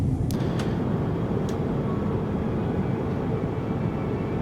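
Steady, loud engine and airflow roar inside the cabin of a Singapore Airlines A350ULR airliner approaching JFK to land, an unbroken low rumble with a couple of faint ticks near the start.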